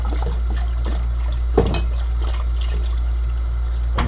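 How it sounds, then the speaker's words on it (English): Lukewarm tap water running steadily while bottles are rinsed, a constant close splashing flow with occasional clinks and sloshes, including one sharper knock partway through. "I'm double rinsing every one of these bottles"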